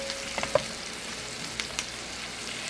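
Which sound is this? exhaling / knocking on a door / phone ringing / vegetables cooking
vegetables cooking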